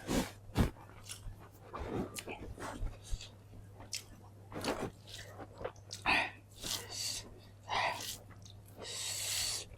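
Chewing on flat beans (sheem) during a home meal, with soft, irregular mouth sounds, bites and snorts spread across the clip, close to the mic, with occasional breathy bursts.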